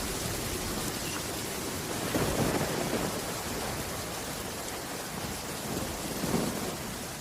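Steady rain and rolling thunder fill a storm in Genshin Impact, a continuous wash of downpour with low rumbles swelling around the middle and again near the end, no voices.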